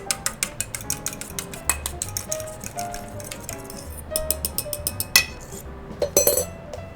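A fork beats an egg in a dish for a pizza rustica, giving a quick run of light metallic clinks and taps in a steady whisking rhythm, close and moderately loud throughout.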